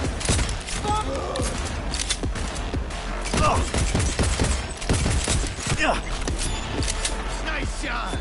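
Gunfire in Cyberpunk 2077: rapid, loud bursts of shots crackle continuously alongside thuds and game effects, with a voice talking over the shooting.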